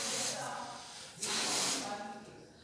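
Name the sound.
air hissing out of a balloon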